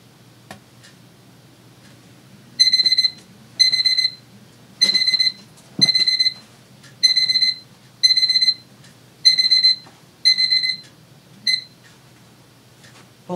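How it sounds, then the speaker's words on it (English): A kitchen timer buzzer goes off loud and close, sounding as a steady series of about nine evenly spaced electronic beeping bursts, each roughly half a second long, with faint handling clicks between them. "Boy, I'm having a lot of trouble with timers and buzzers and things, aren't I?"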